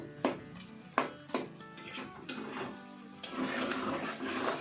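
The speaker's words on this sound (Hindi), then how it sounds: "तो अब इसे साथ के साथ ना हम चम्मच मार के थोड़ा सा तोड़ते जाएंगे।" A metal spoon knocks against and breaks up potatoes frying in a pan for aloo tarkari: a few sharp, close clinks in the first seconds, then steady scraping and stirring over a low sizzle.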